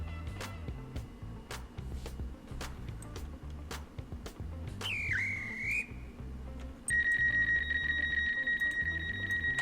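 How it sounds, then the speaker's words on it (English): A train whistle in the Roblox game Stepford County Railway sounds after the doors close, a short wavering tone followed by a steady sustained whistle, over a rhythmic ticking background of game and engine noise. "the fastest anyone has done the second whistle after the doors closing like that"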